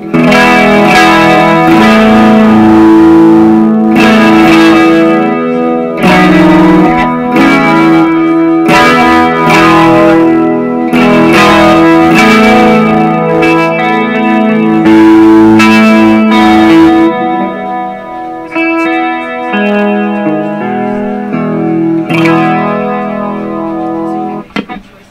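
A custom-built B.C. Rich electric guitar, made from scratch, rings out through distortion, chorus and echo effects, with loud strummed chords and picked riffs in a steady rhythm that thin into sustained single notes near the end.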